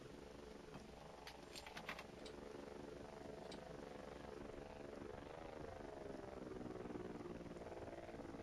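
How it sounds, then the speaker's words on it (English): A flying drone in the space-horror game Voices of the Void gives a steady low mechanical whirring hum, faint and continuous, with a few brief higher clicks early on. "shouldn't I be able to hear the drone by now? But there it is."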